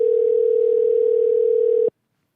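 A steady, loud telephone line tone from a call placed to a radio-show guest holds unbroken for nearly two seconds, then cuts off abruptly into silence.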